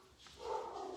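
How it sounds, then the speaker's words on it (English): Dogs bark indoors at a distance, heard as one faint, brief yelp-like bark that swells and fades in about a second. "Those dang dogs."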